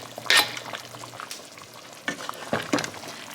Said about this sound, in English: now you're going to throw in the onion and tomato you chopped up